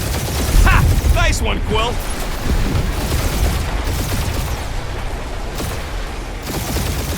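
Sustained bursts of gunfire and booming blasts from a spaceship dogfight in the video game Marvel's Guardians of the Galaxy, dense and continuous throughout, with a character's voice cheering briefly over the din early on.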